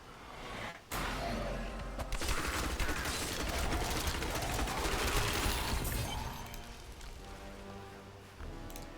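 Rapid gunfire cuts down skeletons in Diablo 3, a dense, loud clatter of shots and shattering impacts that runs nearly continuously after a brief opening burst, with no talk.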